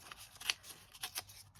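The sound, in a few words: tearing scrap paper by hand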